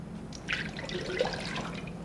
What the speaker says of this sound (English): I have to pour this very carefully.